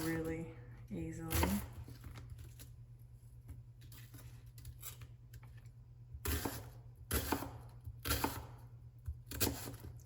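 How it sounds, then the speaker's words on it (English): Half an onion chopped with a knife on a cutting board, several crisp irregular knocks close by with soft handling noise between. "So yeah, I just chop it up like really easily."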